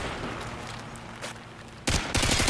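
Automatic gunfire in Call of Duty: Modern Warfare 2 team deathmatch on the Highrise map, faint distant shots first, then a loud close burst of rapid fire near the end.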